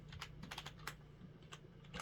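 Fingers typing a password on the keyboard of a Dell Optiplex 3010, a quick irregular run of soft clicks, very faint and close, over a low steady hum.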